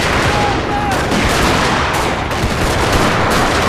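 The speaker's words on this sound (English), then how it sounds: "Nice volley fire. That's doing some serious damage there to the Union forces." Musket volleys crash across an American Civil War battlefield in a Total War game set at Conewago Creek in 1863. The fire is loud, dense and sustained, a continuous crackling fusillade with no clear gaps.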